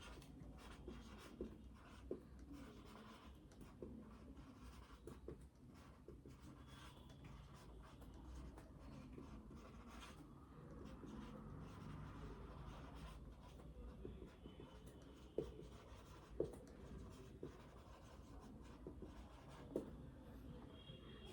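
Writing during a physics lecture on Newton's laws of motion, a long stretch of quiet, continuous pen or chalk scratching with small taps and strokes, close but faint, without speech.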